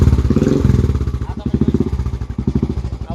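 A Royal Enfield 350 BS3 motorcycle single-cylinder engine fires up after a kick start and settles into a loud, steady, fast thumping idle. It runs close by and alone throughout.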